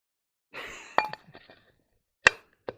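Loose headlight glass from a Land Rover Defender 300tdi being lifted and handled, giving a brief scrape followed by a few sharp, close glassy clinks and ticks spaced over a couple of seconds.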